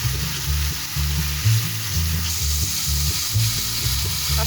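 Ginger garlic paste frying in oil in a home kitchen during a Ramadan sehri cooking routine, a steady loud sizzle with rhythmic stirring scrapes throughout, no voices.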